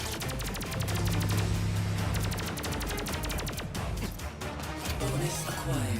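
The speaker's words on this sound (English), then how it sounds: "No, my homing bullets." Rapid homing-bullet gunfire rattles in a Terminator 2D: No Fate game, a dense continuous volley of sharp shots layered over loud music, with no pauses.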